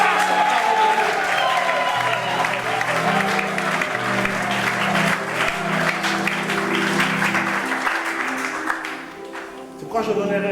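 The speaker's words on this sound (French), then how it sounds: "tu peux acclamer ton Dieu très fort" A church congregation claps and cheers loudly and steadily for God, continuous applause and crowd voices filling the space, with a preacher's voice and music mixed underneath, tapering off near the end.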